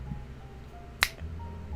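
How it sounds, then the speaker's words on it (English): One crisp finger snap, close and fairly quiet, rising briefly above a low hum of room noise. "Okay, I'm gonna snap my fingers,"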